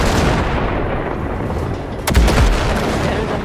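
Gunfire blasting at ship wrecks in Cyberpunk 2077, heavy continuous rumbling fire with a sharp loud crack partway through, dense and close.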